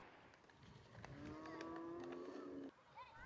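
Cattle lowing in the hills above Dushanbe, Tajikistan: one long, drawn-out moo rising over a steady outdoor background, loud and fairly close, then cut off abruptly.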